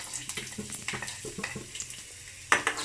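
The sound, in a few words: ginger garlic paste frying in oil with onion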